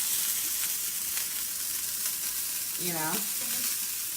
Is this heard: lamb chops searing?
yes